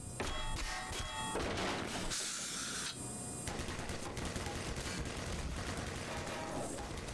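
Automated turret fire in the video game Black Mesa comes as dense, rapid, loud bursts of mechanical gunshots that run almost continuously, with one brief lull.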